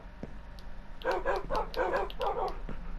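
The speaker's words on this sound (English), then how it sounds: "We've got the dogs in." Tamed wolf dogs in Minecraft bark in a quick series of about five synthetic yaps, evenly spaced and moderately loud over a low background hum, with no talking.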